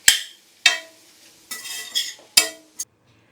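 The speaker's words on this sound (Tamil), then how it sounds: "ஸோ இப்போ உப்பு சேர்த்துட்டு சாதத்தையும் சேர்த்து நல்லா கலரிடலாம்" A ladle scraping and clanking through mushroom rice with salt in a metal pan, five sharp strokes spaced irregularly with brief rustling between, close and fairly loud, no voices.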